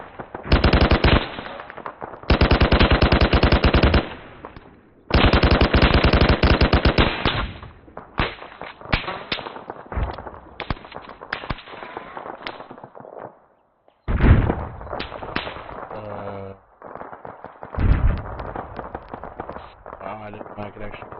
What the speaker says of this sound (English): why the hell am I hearing shots off to my left?